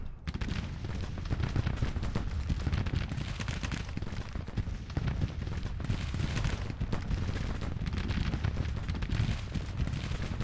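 Artillery bombardment in Grand Tactician: The Civil War, a battery firing on Civil War positions, heard as a dense, continuous roar of overlapping cannon blasts and rumbling booms with no pause for the whole stretch.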